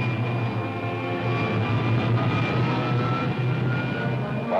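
Steady roaring jet blast from a rocket ship's pilot jet in a vintage space serial, a loud continuous rumble with a faint high whine running through it, no voices.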